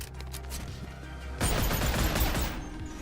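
Rapid gunfire from two guns fired together in the VR game Boneworks: a dense, continuous burst of overlapping shots that grows heavier midway and stays loud, with no talk.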